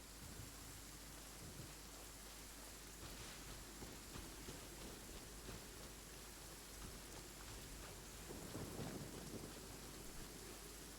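Steady rain hisses in a Genshin Impact storm, with a low rumble of thunder swelling near the end, all at a faint, even level with no voices.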